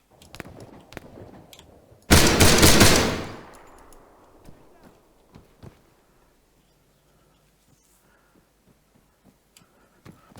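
Gunfire in ArmA 3: one loud, dense burst of rapid shots rings out and decays into a long echo, followed by scattered faint distant pops and a quiet backdrop.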